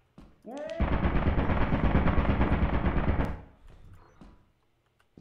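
Sustained burst of video game gunfire, loud and continuous for about three seconds after a short rising whine, then cutting off into quieter clatter.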